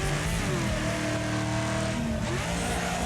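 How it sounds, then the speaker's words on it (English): Engine in the Wreckfest racing game revving loudly and continuously, pitch climbing and dropping through gear changes, with a brief dip and shift near the end; no talking. "Trying to do it by the sound of the engine"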